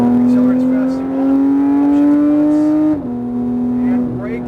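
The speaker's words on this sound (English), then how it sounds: "Accelerate as fast as you want." A race car accelerating hard on a track, its engine note climbing steadily, then dropping sharply at an upshift and climbing again, loud and close with no one talking.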